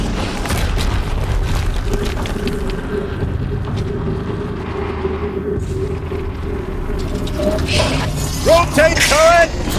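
Explosions and combat rumble in the video game Horizon Zero Dawn, a continuous loud low roar with heavier booms near the end, under mechanical noise and a tonal game sound.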